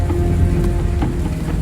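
Steady rain falls in an outdoor scene, a constant close hiss of drops with a few faint taps poking through.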